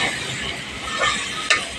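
Spiny gourd and bitter gourd with onion are stirred in a hot pan: a steady close sizzle with a spoon scraping the pan and one sharper scrape near the end.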